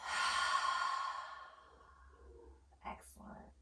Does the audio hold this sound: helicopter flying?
no